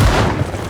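A single loud video game gunshot, a heavy close boom that decays quickly into a short rumbling tail, alone with no talk.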